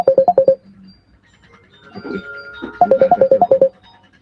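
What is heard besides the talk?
telephone ringing, incoming call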